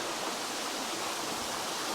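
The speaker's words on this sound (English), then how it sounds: "got the waterfall coming down from the right hand side" A waterfall pours steadily from one side in an outdoor scene, a dense unbroken rush of falling water at constant loudness, with no voices.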